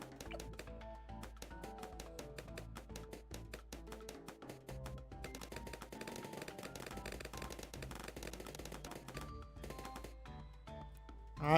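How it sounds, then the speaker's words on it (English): A full auto rifle tower in Bloons Tower Defense 6 fires sustained rapid bursts, dense rattling shots in quick succession that continue almost unbroken, layered with popping game effects. "Alright, full auto rifle."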